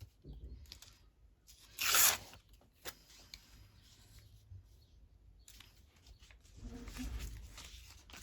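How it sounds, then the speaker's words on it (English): Paper torn by hand for a collage masterboard: a single loud, close rip lasting under a second, with a few soft rustles and handling noises before and after in a quiet room. "I'm just going to tear that bit off there."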